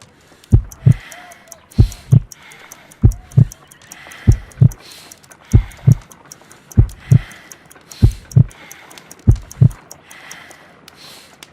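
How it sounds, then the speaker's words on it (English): Heartbeat in the Sherlock Holmes: Crimes and Punishments video game, a slow, weak pulse of about 50 beats per minute. Deep paired thumps repeat steadily and sound close and loud over a faint background. "I need to concentrate and count the heartbeats."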